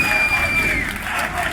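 A tournament crowd at a Mortal Kombat X fighting-game event roars and cheers continuously, loud and dense, with a steady wash of applause and shouting filling the whole moment.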